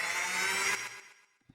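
A single D note from the Ascendance trailer music plugin sounds with delay and reverb. It is a bright, sustained synthetic tone that decays into a soft reverberant tail over about a second and a half, heard alone without speech.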